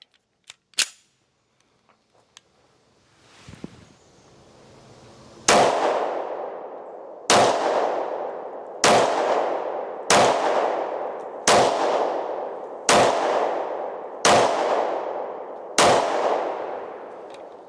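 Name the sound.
1911 pistol firing with Mec-Gar magazine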